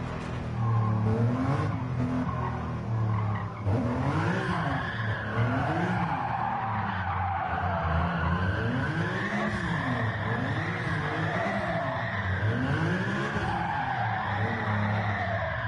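A car set up for drifting slides through Gran Turismo 7 with steady, wavering tire squeal over a revving engine. The long-nosed, short-tailed car snaps and pivots as it holds the drift, loud and continuous throughout.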